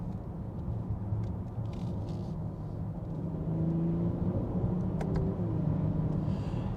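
A 2023 BMW X5 xDrive40i engine drops a gear on a paddle downshift, a steady low rumble inside the cabin with the revs rising and holding higher partway through, no talking.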